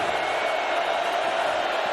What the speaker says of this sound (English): Utes crowd making some noise here.